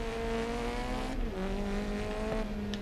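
Touring race cars in the game GRID Legends, engines droning at high pitch with one car shifting gear and its tone dropping, steady and fairly loud, no talking.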